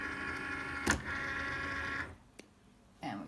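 A Cricut cutting machine loading its mat, a steady motorised whir with a sharp click near the start, then going quiet before a second short mechanical whir, close and low in level.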